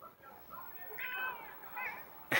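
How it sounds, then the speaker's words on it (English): A pet cat gives a couple of short, clear meows close to the microphone in a quiet room, separated by brief pauses, with a soft bump at the end. "My cat wants to say hi."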